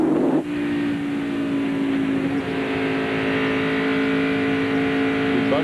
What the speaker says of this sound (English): Folks, you hear that 10 car back out of the gas?